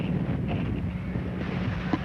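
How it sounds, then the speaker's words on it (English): Gusting wind buffets the microphone at Turco Field in Walpole during a high school football game, a continuous low rumble that swells and eases across the stretch. "You can tell how this wind is gusting"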